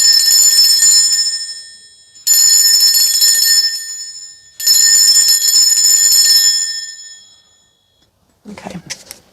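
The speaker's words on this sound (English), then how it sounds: "I'm going to be ringing this bell though. This is just to cleanse the space around us." A bell rung three times to cleanse a space, each strike ringing out loud and bright with a long shimmering decay before the next, followed by a brief faint clatter at the end.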